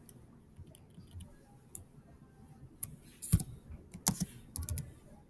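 Keys tapped on a computer keyboard during a CAD modeling session, sparse soft clicks that quicken into a busier cluster of sharper taps, close and quiet, with no talking.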